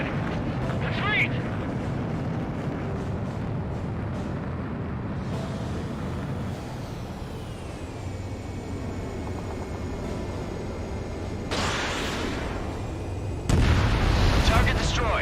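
Destroyed targets exploding in the combat flight game Ace Combat 7, deep rumbling booms over continuous jet and battle noise, with bursts swelling loudly near the end while radio voices talk over the din.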